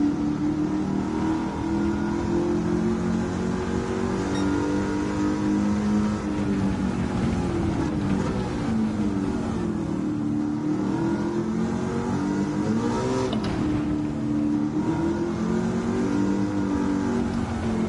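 A Ford Mustang Mach 1 with a swapped engine in Gran Turismo 7, revving hard and loud with pitch rising and falling through repeated throttle stabs and gear changes, heard alone with no voices.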